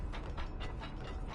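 A level 6 door mechanism in the Control video game, giving a rapid series of ratcheting clicks and grinding gear noise, loud and close, with no voices.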